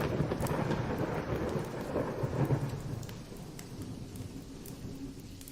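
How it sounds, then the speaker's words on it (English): Rain patters steadily against a window while deep thunder rumbles, loudest early and fading after a few seconds, leaving a soft hiss of rainfall with scattered sharper drops. "the rain tapping against the window like skeletal fingers"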